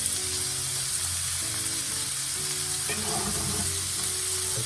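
Garlic cloves and shallots sizzle in a pan, giving a steady, moderate hiss with soft crackles and occasional light stirring, with no talking.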